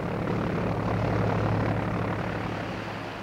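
Steady drone of a propeller cargo plane engine during the Berlin airlift, a loud continuous rumbling hum that holds level and eases slightly toward the end, with no voices.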